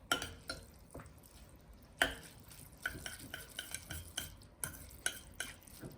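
Chapaghetti noodles being stirred in a pan, a run of scraping, clinking strokes against the cookware at an irregular rhythm, close and fairly quiet with a faint sizzle beneath.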